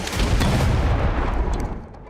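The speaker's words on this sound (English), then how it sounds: "The enemy attacks the Bradley with an RPG" A rocket-propelled grenade fired at a Bradley armored vehicle in combat: a loud, sustained burst of blast and gunfire-like rumble filling the first second and a half, then fading into a lower roar.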